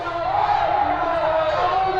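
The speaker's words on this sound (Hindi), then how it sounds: "कितनी भीड़ है।" Dense crowd murmur from a packed political rally crowd for Chandrashekhar Azad, a continuous loud wash of many voices and cheering with no pauses, close around the listener.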